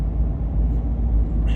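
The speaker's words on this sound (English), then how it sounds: "Lots of traffic," Dense road traffic on a busy suburban street by a highway exit in Winter Park, Florida, a steady low engine rumble with continuous vehicles passing close by.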